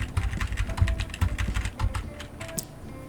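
Steady, fast typing on a computer keyboard, with close, crisp key clacks in an even rhythm and no talking.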